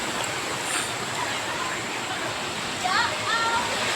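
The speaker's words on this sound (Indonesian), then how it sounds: "Hari ini saya berada di Pantai Gemah." Waves wash continuously onto the shore at Gemah Beach in Indonesia, a loud, steady broadband rush close to the recorder, with faint birdsong briefly audible near the end.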